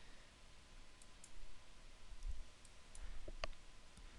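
A computer mouse clicks a few times, sharp and faint, with quiet background hiss and no talking.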